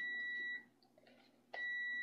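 A kitchen timer beeps in a steady, shrill electronic tone that sounds for about half a second, stops amid faint room noise, then resumes loud and unbroken.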